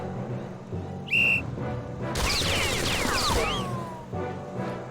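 A single sharp, high whistle blast sounds in the visual novel game Ciconia When They Cry. It is followed by a loud crashing burst of battle noise over a steady background hum, and no one speaks.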